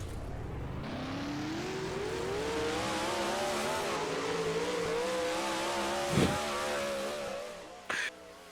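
Onboard a dirt late model race car, the engine drones loud and close with a steadily rising, wavering pitch, broken near the end by a couple of sharp thumps.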